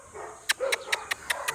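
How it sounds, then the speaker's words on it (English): A big dog barks in the Philippines, about six sharp, evenly spaced barks at moderate distance over a low background hum, with no talking. "Oh, here's another big dog."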